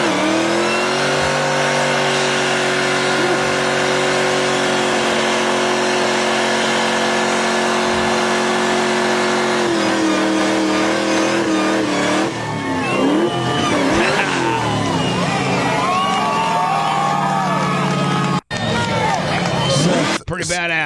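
A Ford Hemi car doing a burnout, its engine roaring steadily and climbing through the gears, loud and sustained, with tire squeal and a sharp crack near the end.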